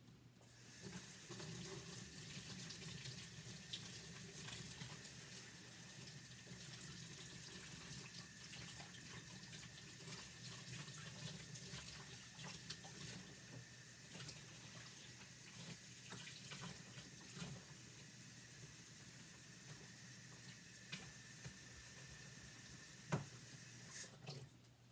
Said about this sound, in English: I'm just going to rinse this off with water